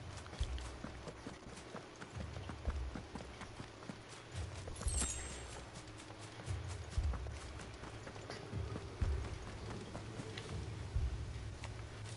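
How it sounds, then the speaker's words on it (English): Heavy, plodding footsteps thud through a burning town in the video game Final Fantasy 16, a steady run of dull low impacts under a faint ambient bed, without any talking. "I hear heavy footsteps."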